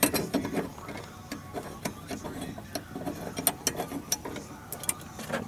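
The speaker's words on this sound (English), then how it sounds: "And you just tighten your C-clamp up." A C-clamp is cranked tight against a brake caliper piston on a 2010 Dodge Challenger V6, giving a run of small irregular metallic clicks and ratcheting ticks, close and moderately quiet.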